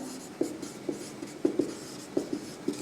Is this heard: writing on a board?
yes